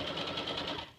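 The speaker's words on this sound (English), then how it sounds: "sewing it 5/8 seam allowance almost to the other corner here" A sewing machine runs steadily, stitching a 5/8 seam allowance along the edge of a gathered waist apron, a continuous close mechanical whir with a fast rhythmic pulse and no pauses.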